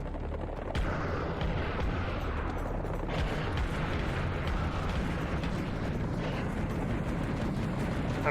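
Rapid shotgun blasts and chaotic combat in the VR game Serious Sam VR, a dense, loud, continuous barrage of booming shots and explosions with no pauses.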